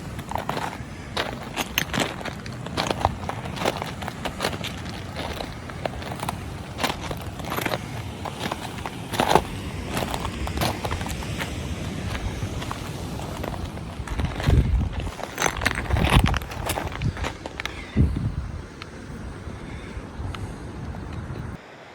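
Footsteps crunching on lava rock along a Hawaiian coastal trail: a steady walking rhythm of close, gritty crunches with wind in the background, easing off near the end.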